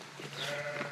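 A single sheep bleats briefly and faintly on a French farm raising 150 ewes for milking and cheese, one short wavering call with nothing else heard.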